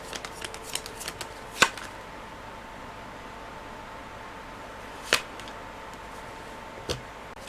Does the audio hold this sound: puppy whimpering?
no